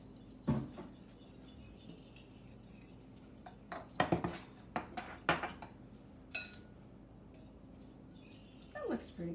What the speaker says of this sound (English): Should I keep whipping them up?